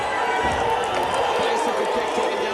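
A packed arena crowd at a women's wrestling event cheers and roars for Leia Makoa, a loud steady wall of noise that never lets up, with the commentators' voices running over it.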